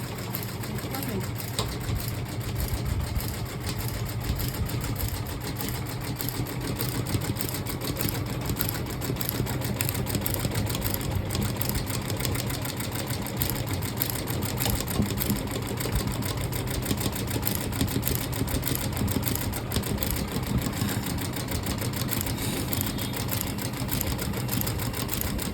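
A computerized automatic maggam embroidery machine runs steadily, its stitching drone constant and fairly loud with a dense mechanical whir and continuous rapid needle rhythm throughout.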